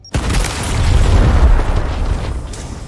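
A frag grenade blows up in the video game Gears Tactics, giving one loud, heavy boom with a long rumbling tail that fills the clip, with no voices.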